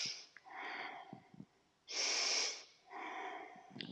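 Slow, deep breaths during a yoga session: a long inhale, a loud rushing exhale, then another inhale, each breath drawn out and close, with no speech.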